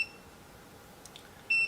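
A VEVOR 12-inch foldable oscillating standing fan gives electronic beeps when switched on by its remote: one faint tone at the start, then a brief clear beep at the end over quiet room noise.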